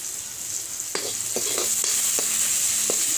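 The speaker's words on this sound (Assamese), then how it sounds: "পিঁয়াজখিনি ভালকৈ সিজালৈকে, ৰঙা হোৱালৈকে ভাজি ল'ম" Onions frying in a pan until soft and reddish, a steady bright sizzle with several sharp clinks of a spatula stirring, close and without talk.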